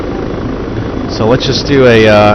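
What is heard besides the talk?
helicopter flying in ARMA 3 video game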